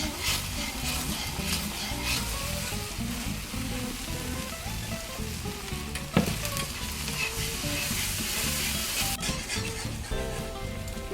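Milk stirred into a hot pan of butter for shrimp Alfredo sauce, with a steady close sizzle and the scrape of stirring running throughout, one sharp clink partway through.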